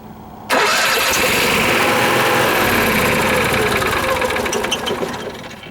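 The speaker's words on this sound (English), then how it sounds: "to start your generator from here, you just simply press the prime button" Onboard generator on a 2014 Thunderbolt XLR toy hauler RV cranks and catches abruptly, then settles into a loud, steady mid-pitched running drone with a slight knock, close by with no voices.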